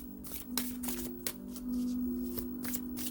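Chakra oracle cards being shuffled by hand, a run of crisp riffling flutters and soft slaps repeating in quick bursts, close and clear with a steady low hum underneath and no talking.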